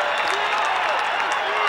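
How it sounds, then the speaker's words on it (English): A crowd at a 1988 Syracuse versus North Carolina lacrosse game applauds and cheers in a steady, dense roar, with a commentator's voice faintly underneath. "the crowd is coming to life as Durgill wins the face"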